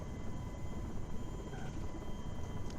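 Simulated helicopter flight in FSX / P3D, heard as a steady, dense rotor and engine drone that stays at an even level throughout, with no talking.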